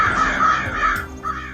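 Crows caw loudly in a continuous run of harsh, grating calls over about a second and a half, with a short pause and one more caw near the end, set as a sound effect in a folksy creation story.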